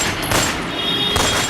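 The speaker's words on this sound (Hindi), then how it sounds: "फायरिंग की आवाज सुन हर कोई टहल उठता है" Gunfire outside a Mumbai apartment building in Bandra: a short stretch of rough, noisy outdoor sound with two muffled bursts like distant shots or booms, fairly loud, with no talking.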